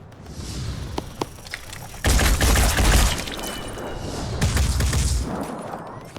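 Gunfire attack in the tactical video game Phoenix Point: sharp early shots, then two heavy sustained bursts of loud firing with booming thuds, each lasting about a second or more, separated by a quieter gap.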